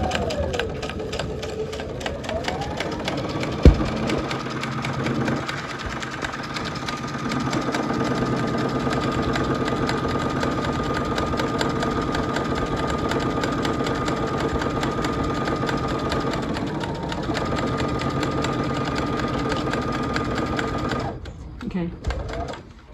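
A sewing machine stitches clear vinyl for a teacher apron, a close, loud, continuous rapid whirring with fast needle chatter that runs steadily for most of the time before slowing and stopping near the end, with talking over it.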